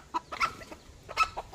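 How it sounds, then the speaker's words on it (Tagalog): Frightened chicks scattering and clucking near a hen, a few short chirps and clucks in quick bursts, moderately close. "nag-alisan tuloy mga sisiw, natakot"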